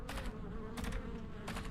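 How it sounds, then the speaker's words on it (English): An insect buzzes in the video game Ark Survival Ascended, a fluttering drone that rises in three short pulses over a steady low ambient hum, faint and without talking. "I hear a bug."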